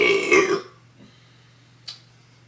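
A single loud, throaty burp from a person fills the opening half-second, followed by quiet low hum and a brief faint click near the end.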